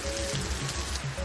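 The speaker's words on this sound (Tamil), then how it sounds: "தற்போது கனமழையாக மாறிவிட்டது" Heavy rain falling in Sirkazhi, a dense steady hiss of drops striking surfaces, close and continuous with no voices.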